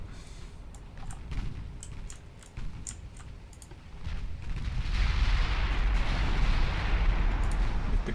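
Naval artillery booms and rumbles in the warship game Ultimate Admiral Dreadnoughts, the heavy low firing building louder over the second half, with scattered mouse or key clicks on top and no talk.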